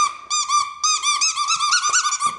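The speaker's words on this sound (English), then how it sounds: "This one also has a squeaky. This one's a little louder." A dog's squeaky toy, the louder of two, gives a run of high, bright squeaks in quick bursts, loud and close, with no talking.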